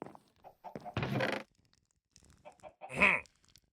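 A chicken in a video game clucks and squawks in short bursts, with a louder squawk near the end, separated by quiet gaps.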